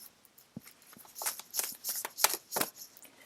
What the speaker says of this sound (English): I'm going to use some oracle cards.